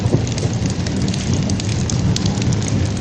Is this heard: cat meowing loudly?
no